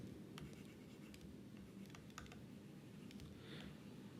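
Steady clicking of a computer keyboard being typed on, with scattered sharper key strikes over a continuous low background hum; no voices.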